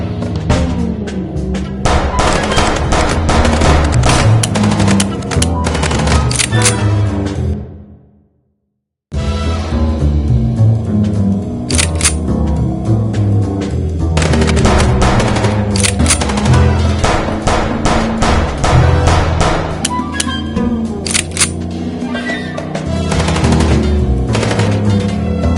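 Rapid bursts of automatic gunfire from a shootout in the Chicken Police video game, dense and loud, broken by a brief silent pause before the barrage resumes with no spoken voices.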